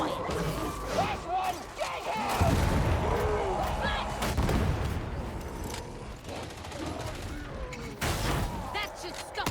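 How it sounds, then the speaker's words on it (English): Explosions from bombs in a video game: heavy booming blasts and crashing impacts that burst out repeatedly over a noisy, busy mix, with some voice also present. "That should stop the bombs."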